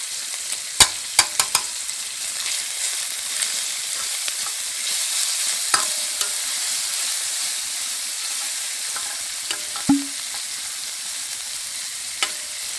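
Minced garlic and pork frying in a pan for kimchi stew, a steady close hiss and sizzle with occasional sharp clinks of a utensil against the pan and no voices.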